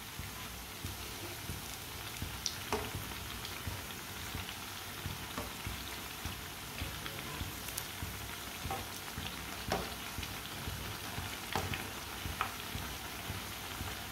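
Potato pakoras sizzle steadily in hot oil, a dense, even crackle with occasional sharper pops, close and unbroken throughout with no talking.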